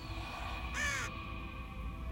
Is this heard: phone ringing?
no